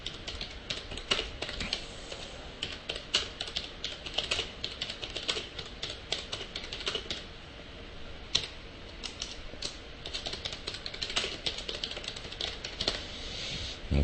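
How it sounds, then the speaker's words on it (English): Continuous typing on a computer keyboard, with steady, fast clatter of key presses running throughout at moderate level and no voices. "Just type it right in here."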